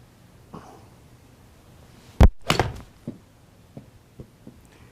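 A golf club strikes a ball into a simulator screen while hitting a fade. One sharp, loud crack is followed by a brief rustle and a few faint taps and thuds, in an otherwise quiet room.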